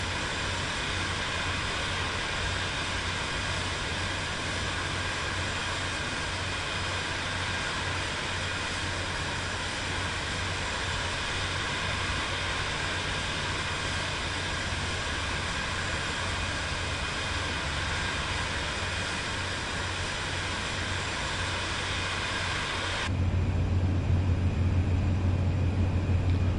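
Steady, loud whine and roar of a Vision Jet G2 jet engine taxiing in Microsoft Flight Simulator 2024, a continuous even drone that briefly shifts in tone near the end; no voices.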